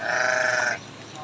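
A large sheep lets out one loud, close, wavering bleat that lasts under a second, followed by quieter background noise.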